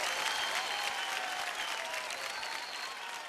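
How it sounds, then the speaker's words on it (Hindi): Audience on a TV singing show for children applauding, a dense, steady wash of clapping that fades only slightly, heard on its own with no talk. "एक बार जोरदार तालियां विपिन जी के लिए।"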